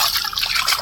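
Pond water splashing and trickling as freshly picked garden vegetables are rinsed, a brief close, steady wet swishing sound.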